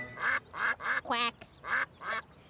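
A duck quacks in a quick series of about six nasal calls with brief gaps, fairly close and clear, with no other voices.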